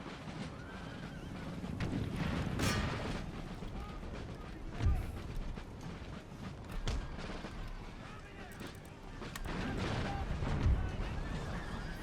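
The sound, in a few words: musket volley fire in Empire Total War video game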